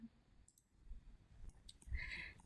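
Mouse clicks while polygons are drawn in Marvelous Designer software, a handful of faint, sharp, evenly spaced taps close by over quiet room noise.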